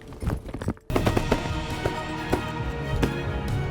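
Shotguns fire while hunters shoot at mallards: an abrupt report cuts in after a brief lull, followed by several sharp, scattered shots with crisp tapping transients amid outdoor noise.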